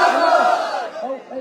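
A crowd at a religious gathering roars a loud collective battle cry in response to a takbir call, the massed voices swelling and then fading into shorter group shouts.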